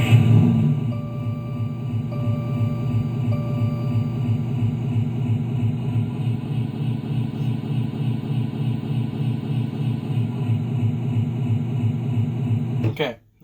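A musical keyboard imitates a car sound effect centered on the note D, a steady droning engine-like hum with pulsing texture held for about thirteen seconds before cutting off abruptly.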